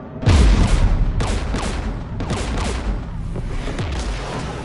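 Heavy gunfire and booming explosions from a Mass Effect 3 firefight on the Geth world Rannoch, loud bursts recurring roughly every second over a continuous crackling rumble of combat.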